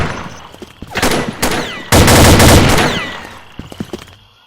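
Shotgun blasts and other gunfire ring out in a video game esports match, with a few sharp shots, then a loud, sustained burst of firing that tails off into smaller scattered cracks, heavy and close.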